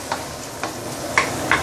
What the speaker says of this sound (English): I'm going to slowly use about medium heat, okay, to slowly saute this sambal, this chili paste